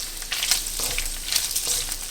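Chunks of pork fat sizzle and crackle steadily in a pan as they render into lard, making a continuous bright frying hiss with scattered pops and no talking.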